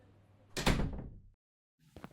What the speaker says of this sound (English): close the door behind yourself